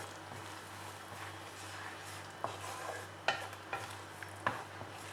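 A spoon mixes rava batter with chilli, pepper, garam masala and salt in a bowl, giving soft scraping and a few light taps against the dish over a low steady hum.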